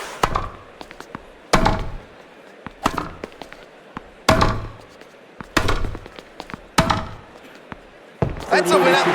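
Tennis ball bounces and racket hits in the video game Grand Slam Tennis 2, sharp separate thumps spaced a second or two apart in a rally, near and loud, with a brief burst of crowd noise or talk at the end.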